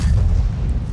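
A tank gun fires in World of Tanks, a loud low boom with a rumbling tail that fills the whole short moment, no voices over it.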